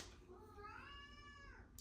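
A pet cat lets out a single drawn-out meow with a rising then falling pitch, close by and fairly quiet, over a low background hum.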